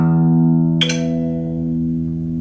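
A low E string on an acoustic guitar, slightly sharp, rings steadily, is plucked again partway through with a bright attack, then sustains with rich overtones alone and close.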